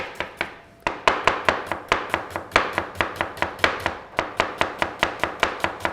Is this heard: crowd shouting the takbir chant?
no